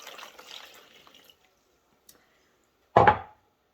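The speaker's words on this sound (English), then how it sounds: "Pour your water in there." Warm water splashes into a plastic shoebox container in one short burst, preceded by faint handling noises and quiet rustling.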